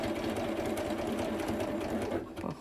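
A domestic sewing machine runs a continuous zigzag stitch, its fast steady mechanical rattle close and loud throughout, then slows at the end.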